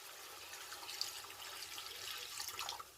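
Beef stock made from Bovril cubes poured into a pan, a soft, steady liquid trickle and splash, faint and close, with no talk.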